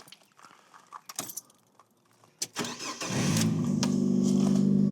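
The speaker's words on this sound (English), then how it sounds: "Let's get the car started." A car engine is started from inside a camper van: keys jangle and a few clicks come first, then the starter cranks and the engine catches into a steady, loud idle.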